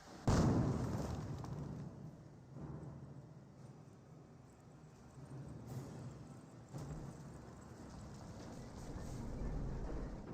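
Grenade explosions in Company of Heroes, a sharp blast at the start followed by several scattered, fainter booms and rumbles across a busy battlefield din.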